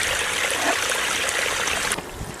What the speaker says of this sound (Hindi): पानी अपने आप आराम से निकलता है